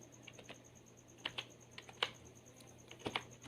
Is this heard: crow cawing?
no